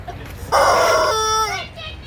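A chicken gives a loud, close crow. It begins with a raspy burst and then draws out into a falling, wavering call against quiet background noise.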